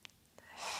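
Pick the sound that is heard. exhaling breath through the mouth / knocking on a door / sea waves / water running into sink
exhaling breath through the mouth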